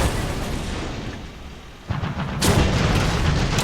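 Machine gun fire in War Thunder during a tank battle, heard as heavy booming reports, a muffled rumble followed by a sharp burst and then sustained loud firing near the end.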